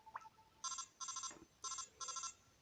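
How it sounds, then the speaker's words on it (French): Snake's phone ringing in the Metal Gear Solid 3D video game on a New 3DS XL, four short bright electronic rings in a steady pattern, quiet and alone. "c'est juste le bruit du téléphone de Snake"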